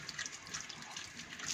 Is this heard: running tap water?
yes